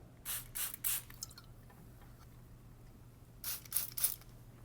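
A spray bottle mists water onto a client's hair before a scissor cut at a barber's, two bursts of three quick close hissing squirts separated by a quiet pause.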